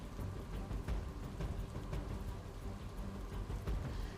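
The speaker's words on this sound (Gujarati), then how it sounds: "ધનસુરામાં ધોધમાર વરસાદ, આસપાસના ગ્રામ્ય વિસ્તારમાં પણ વરસાદી માહોલ જામ્યો।" Heavy monsoon rain pours down in Dhansura, Aravalli, Gujarat, a dense, steady patter and hiss with scattered louder drops, moderately distant and without voices.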